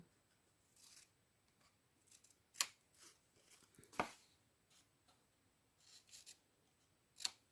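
Scissors making angled cuts in paper or card for an advent calendar craft, quiet scattered snips with a few sharp louder closes spaced irregularly, close by with no talking.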